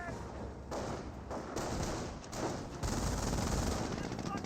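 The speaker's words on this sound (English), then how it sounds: "Jeep now firing away." A jeep fires its machine gun in the WWII strategy game Company of Heroes, sustained rapid bursts layered with other gunfire and thumps of battle, loud and dense throughout.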